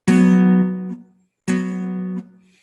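Two sustained guitar double stops on strings 4 and 3 at the fourth fret, each picked once and left to ring for about a second before being damped, close and clean without speech.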